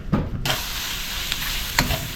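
Oil heats in a non-stick pan, giving a broad steady sizzling hiss with a couple of sharp clinks from a utensil. Nobody speaks.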